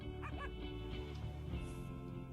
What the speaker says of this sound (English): Looks like we've got a new puppy named Gitta.